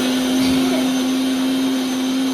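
An electric mixer grinder whirs loudly and steadily as it grinds a wet masala spice paste, a constant close motor drone with a strong steady pitch and no pauses.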